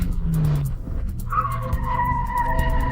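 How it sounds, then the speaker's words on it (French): Car tires screeching on asphalt under hard braking near roadwork cones, a loud close squeal that rises and holds as the car skids, with engine rumble beneath. "les pneus hurlaient sur l'asphalte"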